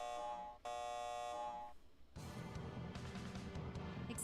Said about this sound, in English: Activating alarm system.